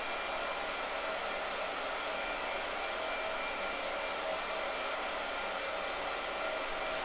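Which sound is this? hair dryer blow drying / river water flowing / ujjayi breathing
hair dryer blow drying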